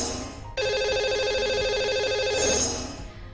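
A telephone rings out as a radio show host calls a lucky caller, one long electronic ringtone burst after a brief pause, clear and fairly loud with no talk over it.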